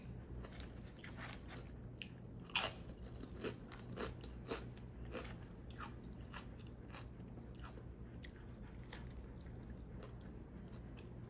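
Close, wet crunching bites into a big pickle, one sharp bite near the start followed by steady chewing and squishy crackles, with no talking.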